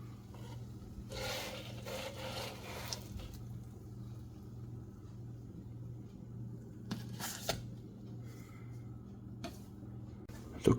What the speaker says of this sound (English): To clean up, just wipe with the wet towel.